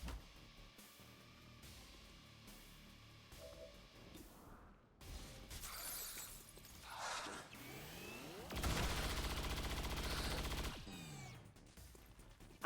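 Gunfire in XCOM 2 Long War of the Chosen as soldiers shoot at a mech, bursts of game weapon shots and explosive impacts with shifting effects, fairly loud and unaccompanied by talk.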